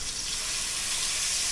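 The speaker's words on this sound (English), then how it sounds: "the oil is hot. Time to add the garlic." Garlic sizzling in hot oil in a pan, a loud, close, steady crackling hiss with no voices.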